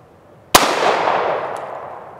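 A single sharp, loud pistol shot from a Smith & Wesson SD40 handgun, with a long reverberant decay trailing off and no talk.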